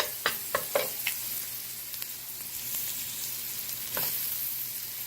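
Sauce for spare ribs with ginger and garlic simmering in a pan on medium-low heat, a steady soft sizzle with a few sharp clinks from a utensil near the start, close and unaccompanied by speech.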